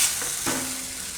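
Gravy for urad dal kofta bubbling in oil and being stirred, giving a steady close sizzle with a brief scrape of the spoon partway through.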